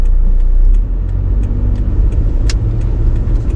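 A car engine idling and revving in low gear while stopped on snow, a steady low rumble with slight swells in pitch and a brief sharp click partway through, fairly close and with no talk over it.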